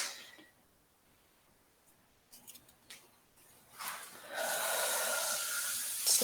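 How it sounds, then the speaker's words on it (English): A deep meditative breath drawn in slowly, starting faint and swelling into a long, steady airy inhale that holds loud to the end, alone with no talk. "Taking one final deep breath in for this meditation."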